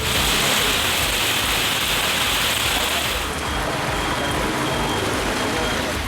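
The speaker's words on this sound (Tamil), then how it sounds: "திண்டுக்கல் மாவட்டத்தில் கடந்த சில நாட்களாக வெயில் வாட்டி வதைத்த நிலையில் திடீரென பெய்த மழையால் குளிர்ச்சியான சூழல்" Sudden rain falling in Dindigul district after days of hot weather, a dense steady wash of hiss that stays loud throughout, with a spoken voice running over it.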